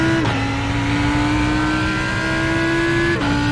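A GT race car in iRacing, in a multiclass GT3 IMSA GTD race at the Nurburgring GP, holds a loud, steady engine drone with two brief gear-shift dips while a faster car closes from behind.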